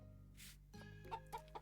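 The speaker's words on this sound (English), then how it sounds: "Pet the chicken." A chicken in the farming video game Some Olive Town gives three short clucks in quick succession over a faint, steady game background. The clucks are quiet and there is no talking.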